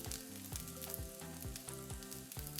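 Potatoes frying in olive oil in a pan, a steady close sizzle and crackle with soft scraping stirs and clinks of a utensil against the pan, no talk.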